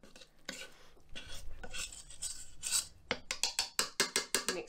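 Bread flour dough is worked by hand in a bowl, with close, soft rubbing and stirring that turns into quick, rhythmic squelching strokes toward the end, no talk.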